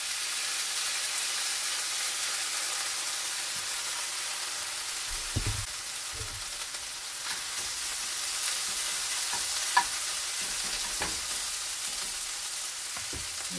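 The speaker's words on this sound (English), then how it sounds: "the first thing we're going to do is brown off our hash browns" Shredded hash browns fry in olive oil in a pan for a vegetarian breakfast burrito, a steady close sizzle throughout with occasional crackles and soft pops and no talking.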